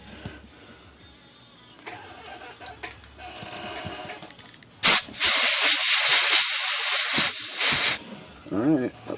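Compressed air blasts across a Hermes Rocket typewriter during servicing, a loud steady hiss that cuts in abruptly after quieter handling noises and runs several seconds before breaking into shorter bursts.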